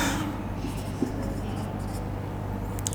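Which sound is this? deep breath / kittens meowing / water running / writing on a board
writing on a board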